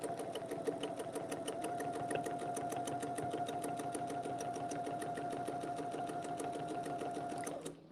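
A sewing machine stitching a quilt runs at a steady, fast mechanical rhythm for several seconds, close and continuous, then stops abruptly at the end.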